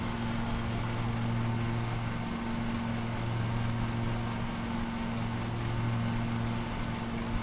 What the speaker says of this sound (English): This is a mulching mower,